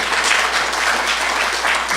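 Steady applause from a lecture audience fills the room, dense and continuous clapping at close range with no voices over it.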